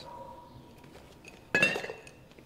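Paint brushes are cleaned in a painter's studio in the video game Detroit Become Human, giving a sudden bright clink of glass and brushes with a short ringing tail after a quiet start.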